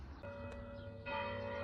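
Church bells ring at a distance, faint tolling tones with a struck accent near the start and a fuller peal joining partway through.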